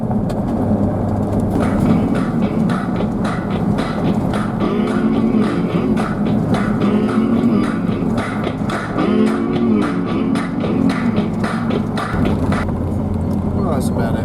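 Car rolling along a freshly graded dirt road, with a steady low engine and tire rumble running throughout, loud and close, with gravel crunching and rattling over it.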